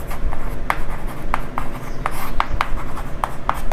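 Pen or chalk writing out a sum in a class 8 algebra lesson: steady scratchy strokes with regular short taps, close and clear, without talk.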